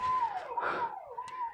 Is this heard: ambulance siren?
yes